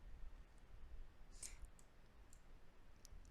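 Mouse clicks at a computer while working in paint.net, faint and sparse, with a few light taps over a steady low background hum.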